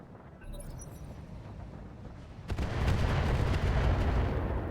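Turrets firing on a Pegasus in the RogueTech BattleTech game: a heavy burst of weapon fire erupts halfway through, followed by sustained loud, rumbling explosions, with no voices.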